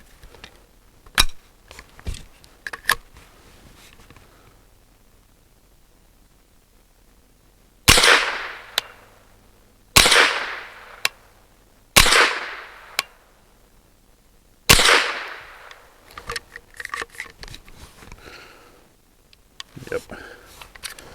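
An MBGL Goat-15 rifle fires 36 grain rounds outdoors in several loud, sharp reports spaced a few seconds apart, with quieter clicks and handling noises between shots.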